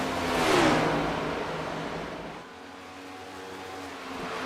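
Stock cars racing at Texas Motor Speedway in a racing video game, an engine roaring close and loud as a car sweeps past, then fading into a lower, steady hum.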